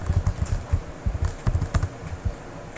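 Quick bursts of computer keyboard typing as copy and paste shortcuts are entered, crisp clicky keystrokes in uneven clusters, close and alone without talk.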